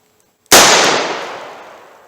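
One very loud, close gunshot from a .38 Special snub nose revolver, a sharp crack followed by a long decaying roar that fades over more than a second, alone in a quiet setting.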